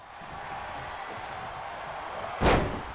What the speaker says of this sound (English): Bret now slams Ludwig Kaiser down.